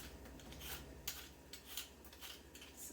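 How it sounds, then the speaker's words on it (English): Quiet rasping scrapes of a peeler stripping skin from vegetables before cubing them, a series of short strokes at an uneven pace, close and faint. "first I am going to peel off the skin and then cube them"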